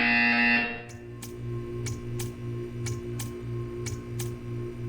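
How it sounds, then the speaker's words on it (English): A buzzer in the game Portal 2 sounds as a loud sustained electronic tone, cuts off, then gives way to a regular series of short ticking clicks over a low steady hum. "You will hear a buzzer."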